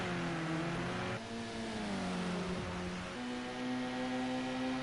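Several BMW touring race cars in a sim racing game battle on a Long Beach street circuit, engines revving and shifting up and down through the gears, with the loud, steady roar of multiple cars running close together.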